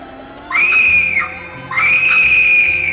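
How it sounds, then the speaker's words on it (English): Two long, shrill screams from The 7th Guest video game, each held for about a second, loud and close, separated by a short quiet gap. "It throws out screams"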